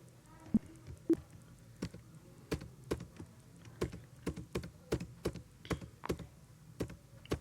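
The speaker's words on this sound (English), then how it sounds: "Just you go on pressing enter." Repeated sharp key presses on a computer keyboard, clicking at an uneven steady pace, quiet and close, with no talking.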